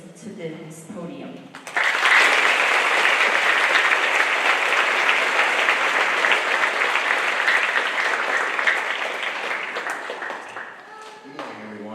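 Audience applause welcoming a colonel at a Veterans Day school assembly: a voice speaks briefly, then loud sustained clapping from a large crowd lasts about nine seconds and fades as another voice begins.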